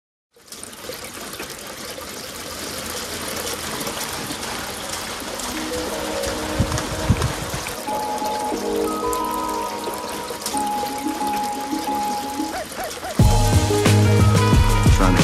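Water flowing from a gravity-fed rainwater system in North County, San Diego, a steady close gush and splatter that grows louder and fuller toward the end.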